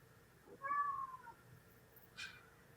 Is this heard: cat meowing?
yes